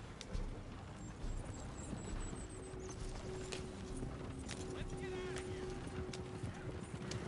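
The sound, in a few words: horse galloping, from a video game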